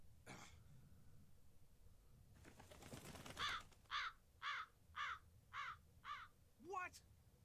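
In the video game Tales of Berseria, a crow lets out a run of six or seven harsh, evenly spaced caws, loud and close, after a short burst of bustling game noise.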